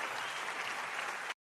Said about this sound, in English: You can clap a little longer.